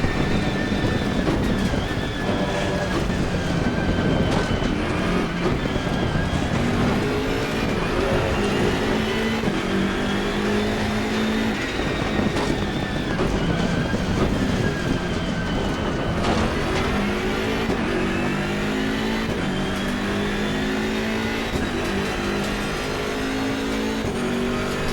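BMW M6 GT3 race car at Mount Panorama in Assetto Corsa Competizione, its engine droning loud and steady with shifting revs and gear changes throughout, close in-car perspective with no talk.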